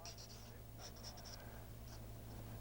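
Pencil scratches on paper while the hair of a face caricature is sketched, soft short strokes in quick bursts, faint and close over a steady low hum.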